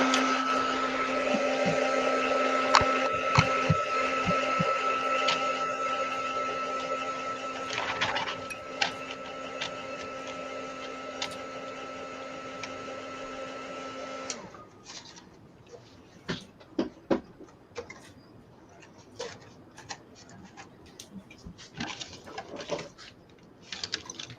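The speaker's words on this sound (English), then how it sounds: "Let's try with the heat gun." A heat gun dries a delicate art piece, blowing as a loud, steady whirring drone for about fourteen seconds before it cuts off, leaving faint clicks and handling noises.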